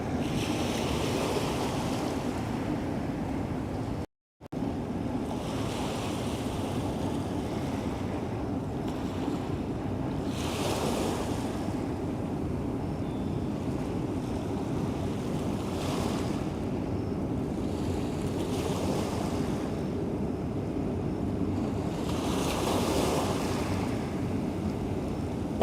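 Small waves lap at Pebble Beach on the East River shore in Dumbo, Brooklyn, in a steady wash of water and wind with gentle surges rising every few seconds and one brief dropout.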